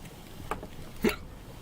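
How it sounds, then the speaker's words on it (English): Two quick hiccups from a person, a soft one followed by a sharper, louder one about half a second later, close and alone without talk. "Oh god, I've got hiccups, guys."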